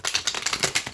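Tarot cards shuffled by hand, a quick run of crisp flicking riffles in an even rhythm, close and brief, with no talking.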